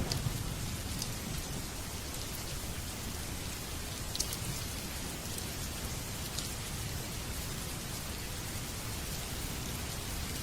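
Steady rain falls in a dense, even patter, with occasional brighter drop ticks standing out over the constant hiss; moderately quiet and unbroken, no voices.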